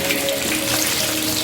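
Fish fries Jamaican escovitch style in an olive and coconut oil blend, giving a steady, dense sizzle and crackle that fills the clip, close and continuous with no talking.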